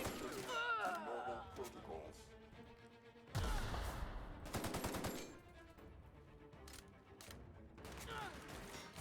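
Gunfire in The Outer Worlds, heard as a fast burst of rapid automatic shots mid-clip followed by scattered sharper reports, mixed with game music and effects and a voice talking.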